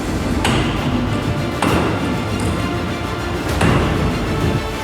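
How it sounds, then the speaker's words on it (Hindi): Hammer striking a chisel against a mosque wall during a village demolition, three sharp, loud metallic blows spaced about a second and a half apart over continuous rough background noise. "लोगों ने रात भर हथौड़े और छेनी से मस्जिद को ढा दिया।"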